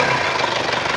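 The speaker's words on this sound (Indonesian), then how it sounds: "Suara mesin juga normal." An Isuzu Panther 2.5 diesel from 1997 runs at a steady, close, loud idle with a light rev, giving a continuous low rumble and a mild knocking texture without any talking.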